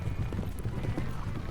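Horses of mounted riders in a goat-grabbing game pound the ground in a field by a circle and flagpole, a continuous rumbling clatter of hooves amid crowd noise.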